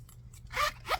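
Two quick zipper pulls sound up close on a Vera Bradley accordion wristlet, a short rasping zip followed by a second brief one, alone and clear.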